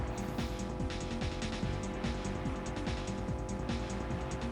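Racing car engine in the Rush 2 video game revving hard under acceleration, a loud continuous whine with steady stepping harmonic tones and faint tire noise, no talking.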